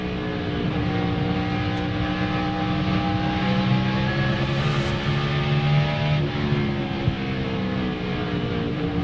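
NASCAR stock cars of around 800 horsepower at Bristol Motor Speedway during the 2001 Food City 500, a continuous loud engine roar with sustained droning tones that shift slightly in pitch, with no talking.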